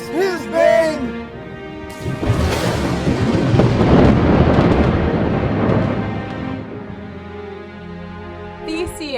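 A stage thunder crack effect erupts into a long rolling rumble that swells loudly and then fades, framed by sung or spoken voices before and after.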